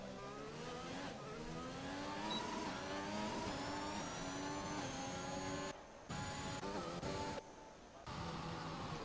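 Race cars lapping the Baku circuit in a racing video game, with engines revving and shifting in rising and falling tones, the sound broken by a few brief drops.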